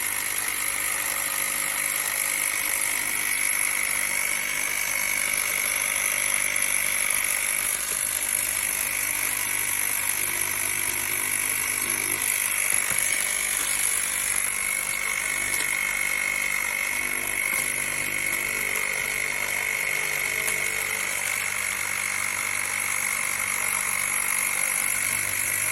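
Small wireless electric pump running steadily to inflate a self-inflating air cushion packaging bag to about 4 psi, a constant close whine with strong high tones holding level throughout, no voices.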